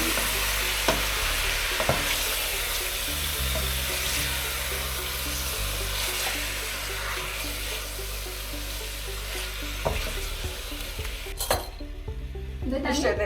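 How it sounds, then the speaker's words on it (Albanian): Beef stifado is stirred in a pot with a spoon under a constant sizzle, with scraping strokes and soft clanks of the spoon against the pot, and a brief rush of running tap water near the end. "Marrim lujë dhe e përzihet."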